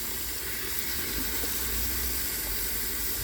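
Water rushes and sputters steadily from a flushed on-demand water heater line with air in it, a loud, continuous hissing flow that stays even throughout.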